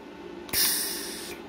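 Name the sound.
MIG welder gas post-flow hiss after trigger release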